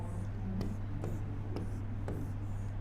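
Marker or chalk strokes writing numbers on a board during a dice reasoning lesson, a few short scratchy strokes spaced about half a second apart over a steady low hum, fairly quiet.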